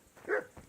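A single dog bark, short and moderately loud, rising briefly then trailing off with a faint second yip, from a dog in the video game Kingdom Come: Deliverance II.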